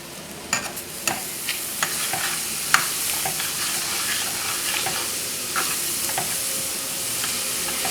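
Shrimp jambalaya ingredients sizzling in a pan: a continuous, fairly loud frying hiss with sharp scrapes and clinks of stirring spaced through the first few seconds.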